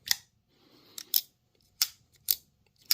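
A Sitivien ST109 budget folding knife with an axis-style lock is flipped open and snapped closed repeatedly, giving five or six sharp, close metallic clicks in quick succession over near silence.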